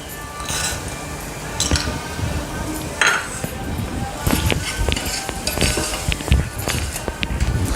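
A spoon scrapes and clinks against a cooking pot as peas masala is stirred, with steady metallic knocks and a scraping rhythm over a constant background hiss at close range.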